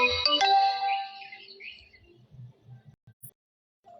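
A mobile phone alarm sounds loudly for about a second, a bright electronic chirping melody that fades into quieter scattered low knocks and then near silence.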